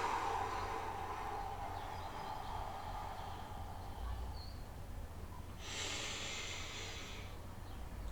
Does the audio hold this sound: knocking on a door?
no